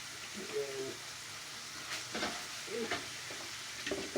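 Steak sizzling and frying in a hot pan while a utensil stirs and scrapes through it, producing a steady hiss broken by several short clanks and scrapes at close range.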